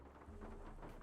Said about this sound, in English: Convenient lightning strike.